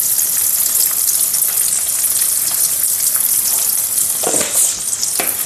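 Avalakki snack with turmeric frying in a pan, a loud, dense sizzle that crackles steadily close to the microphone, with a few brief stirring scrapes near the end and no talking.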